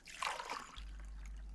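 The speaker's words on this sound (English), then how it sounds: "This is where the chain lubrication oil is poured." Chain lubrication oil trickling into the oil reservoir of a chainsaw, a short close liquid pour and splatter that fades after about half a second into a steady low hum.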